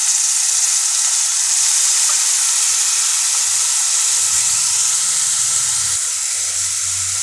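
Chopped spinach hits a hot frying pan for palak paratha filling, giving a loud, steady steam hiss and sizzle that holds unbroken throughout, with faint low clatter from the pan underneath.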